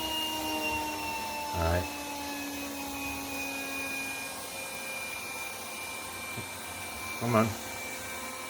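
Yeedi Mop Station Pro robot vacuum-mop running at a high speed setting, giving a loud, steady whirring hum with tonal whine throughout, while a nearby voice speaks briefly twice.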